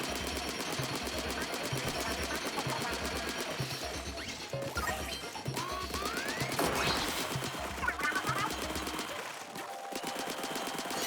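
Rapid, rhythmic weapon fire in the video game Splatoon 3 Side Order, a continuous stream of quick shots over pulsing game music, with occasional crashes and impact effects throughout.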